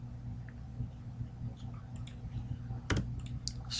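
Computer keyboard typing while entering script values in a custom zombies map editor, a run of soft key clicks over steady low hum, with a denser burst of taps near the end.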